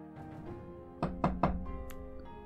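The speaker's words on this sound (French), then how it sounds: "On cogna à la porte de sa chambre." Three sharp knocks land on a bedroom door in quick succession, close and distinct against a soft musical background, with a fainter tap following after.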